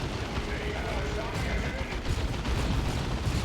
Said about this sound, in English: Sluggers moving in. Double shooters firing.